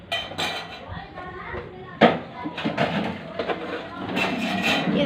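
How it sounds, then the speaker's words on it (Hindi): Pots, lids and small dishes being set in place in a home kitchen, scattered clinks and knocks with one sharper clatter, while someone talks and a child is faintly heard. "अब हम सारे बर्तन इधर लगाऊंगे"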